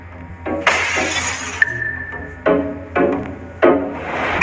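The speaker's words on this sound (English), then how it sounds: "security at a train station found a glass door was broken" A glass door at a train station shatters and breaks, with a sharp loud crash and long crumbling tinkle, then several more bursts of falling, clinking glass shards close by.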